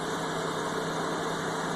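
A car engine idles steadily after start-up, a constant close rumble with an even hum and no talk over it.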